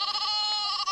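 Sheep bleating loudly and close in a Pyrenees pasture, one sustained nasal bleat lasting about a second, alone with no talk.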